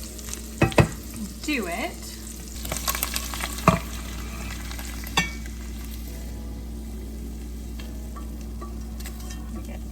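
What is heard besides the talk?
sardines frying and popping in a skillet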